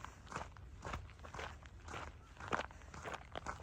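People hiking uphill on a trail in Hatta, Dubai: a steady run of crunchy footsteps on gravelly ground, close and fairly quiet, about two steps per second.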